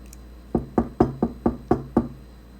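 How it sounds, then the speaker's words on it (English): Seven firm knocks on a door land close and clear in an uneven rhythm, some paired quickly and others spaced apart, each a sharp thud with no voices over them. "if somebody come knock on your door"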